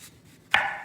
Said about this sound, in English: we're going to take our sweet potatoes and we're going to cut the ends off of them